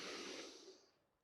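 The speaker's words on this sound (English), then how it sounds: "take a deep breath" A deep breath taken during a live vinyasa yoga flow: a single long, airy exhale close to the microphone, strong at first and tapering off over about a second, with no talking.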